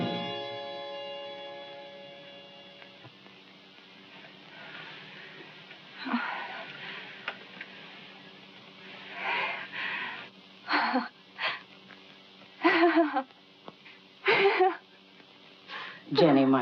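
A sick man recovering from a broken fever, in a 1946 film noir, draws rough, wheezing breaths, a series of raspy inhales and exhales that follow soft music and come close and fairly loud.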